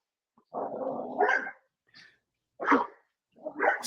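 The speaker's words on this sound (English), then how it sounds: "my dog definitely had something to say" A pet dog barks several times close by in an indoor room, a long rough bark followed by a faint yelp and two more sharp barks.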